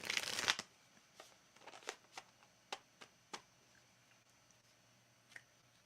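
Wizard's Tarot cards being shuffled by hand, a dense riffle burst at the start followed by a series of separate soft card slaps and taps, close and quiet without talk.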